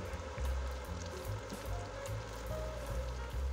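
Tofu patties (ganmodoki) fry gently in oil at moderate heat, giving a steady, close sizzle with soft crackling pops throughout, with no voices.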